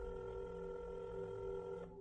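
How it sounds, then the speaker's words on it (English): Telephone dialing and ringing at a detective's desk in a Suffolk County police station: a quiet, steady electronic tone holds unbroken for about two seconds, then eases off at the very end, with no voices. "went to his desk, and made a phone call"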